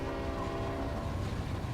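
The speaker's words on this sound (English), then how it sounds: "Here comes the train!" A train rumbles close by with a steady, dense roar and a sustained horn-like tonal drone running through it, loud and unbroken with no voices.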